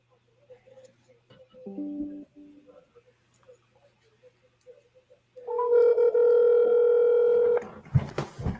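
A telephone placing a call to a seller: faint ticks and short tones, a brief dial tone, then a loud steady ringback tone for about two seconds, ending in clicks and muffled handling noise.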